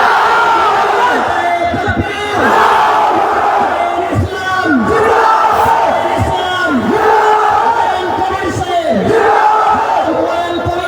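A large crowd roars a unison response to a call at a Babri Masjid gathering in Murshidabad, loud, sustained massed voices rising and swelling in repeated waves.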